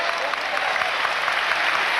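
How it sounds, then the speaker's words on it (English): A volleyball arena crowd applauding a cramping player at a 2006 Hawaii versus USC women's match, with dense, sustained clapping that fills the hall. "Crowd gives her an applause for her efforts."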